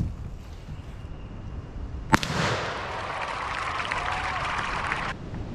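A single sharp report from an American Tactical Nomad 28 gauge shotgun fired outdoors at a target, followed by a few seconds of steady broadband hiss before it cuts off.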